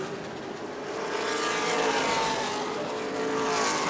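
Stock cars roar around New Smyrna Speedway during the Shark Bite 100, a loud, steady engine wash that swells as the field passes close by, with no voices over it.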